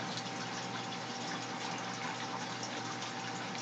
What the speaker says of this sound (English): which is currently running a gigantic current efflux wave maker